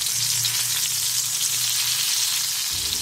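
Stuffed brinjals frying in hot oil in a pan, giving a dense, steady sizzle with crackling spatter that continues unbroken and close up, with no voices.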